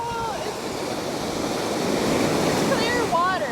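Ocean surf washing onto a beach in Vietnam, a continuous broad rush of breaking water with some wind buffeting, close and fairly loud, with a faint voice briefly audible.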